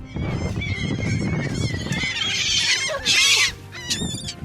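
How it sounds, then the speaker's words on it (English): A flock of seagulls squawking and attacking at close range, loud harsh cries and shrieks overlapping in rapid bursts, one especially piercing call near the middle. "a flock of seagulls decided to attack us"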